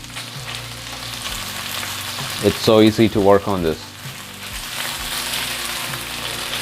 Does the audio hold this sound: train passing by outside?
no